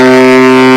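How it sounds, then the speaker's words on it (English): A baritone saxophone sustains a single A note, loud, close and steady, with a rich harmonic buzz and no other sound. "then you have your A"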